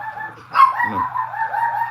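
A pet dog named Prancer gives a short bark indoors, a single burst about midway, over a steady tonal hum.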